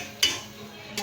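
A spoon scrapes through aloo keema and spices in a cooking pan, two distinct close metallic scrapes about a second apart with a low kitchen hum between them.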